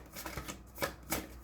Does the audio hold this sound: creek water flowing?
no